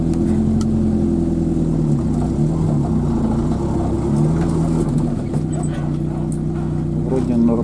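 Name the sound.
car engine revving while reversing on a site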